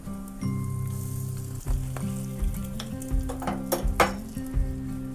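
Hot oil sizzles and crackles loudly as curry leaves are stirred in a tempering for spinach saaru, with occasional sharp pops and a steady low hum underneath.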